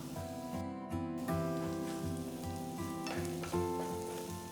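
Finely chopped onion with Kashmiri red chilies frying in oil over a low flame, a steady close sizzle with faint stirring, no talk.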